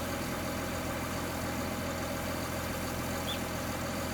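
A combine harvester in Farming Simulator 19 idles steadily while unloading grain, a constant even engine drone with no talk, holding at a moderate level throughout.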